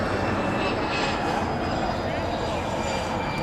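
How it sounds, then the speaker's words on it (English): A United Boeing 787-9 Dreamliner taxis toward the gate at LAX after landing, its engines giving a steady, broad jet roar that holds level throughout, with a voice talking over it. "That's a Dash 9 Dreamliner. Just touched down from Newark."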